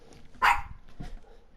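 A dog in Minecraft on PS4 gives a single loud, close bark, followed by a softer second yip a moment later.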